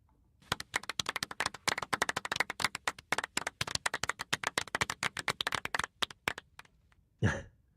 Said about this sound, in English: Terry, have you ever had an applause while you're shitting?